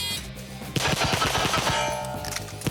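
Rapid volley of close, loud gunshots from an El Presidente pistol drill on a shooting range, a quick string of sharp cracks with a brief reload pause between bursts, no talking.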